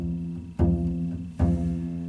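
Two sustained E notes are plucked on a bass guitar, each struck cleanly and ringing out before the next, close and moderately quiet with no talk.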